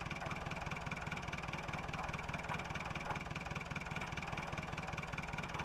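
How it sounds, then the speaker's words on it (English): An old tractor engine idling on a farm, a steady low rhythmic chug with even firing pulses, moderately close and unbroken throughout. "I do like these old tractors."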